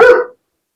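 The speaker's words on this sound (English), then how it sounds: "And there goes my dog." A single sharp dog bark, loud and close, that cuts off quickly into silence in a home kitchen during cookie baking.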